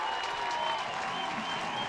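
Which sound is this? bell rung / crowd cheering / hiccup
crowd cheering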